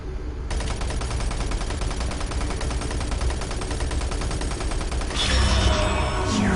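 Video game gunfire rattles in a long, continuous automatic burst, loud and close, ending with a heavier blast or echoing impact near the end.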